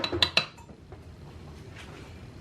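A spoon clinks twice against a slow cooker crock as ground mustard goes in for ham and bean soup, two bright metallic taps followed by faint rustling and quiet room noise.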